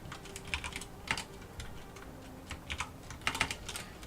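Typing on a computer keyboard, a steady stream of light, close key clicks in uneven bursts with brief pauses, fairly quiet over a low background hum.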